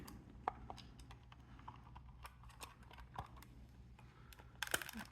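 A plastic body shell is clipped onto a Kyosho Mini-Z 4x4 chassis, making a scattered series of light, close plastic clicks and taps, ending with a slightly louder cluster of snaps.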